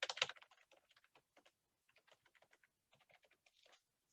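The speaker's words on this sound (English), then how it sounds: "Let me type it." Rapid, irregular clicking of keys on a computer keyboard, close and clear, with a dense burst at the start and scattered keystrokes continuing in short runs.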